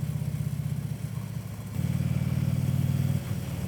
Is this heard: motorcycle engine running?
yes